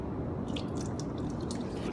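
Water runs steadily from a sink tap through a metering device, producing a constant close hiss and splash with faint drips on top and no speech.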